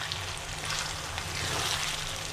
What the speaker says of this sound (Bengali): আমি কড়াইতে তেলের সাথে পেঁয়াজ দিয়ে দিয়েছি হাফ কেজি পরিমাণ।